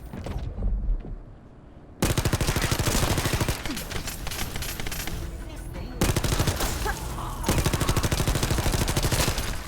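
Enemies firing in The First Descendant, a sci-fi shooter game: dense, loud bursts of rapid automatic gunfire that run almost without pause, with one short quieter gap near the start.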